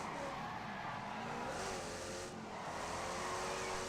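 Car braking and skidding in The Grand Tour video game, a continuous engine drone with a drawn-out tyre skid partway through, heard alone at moderate level.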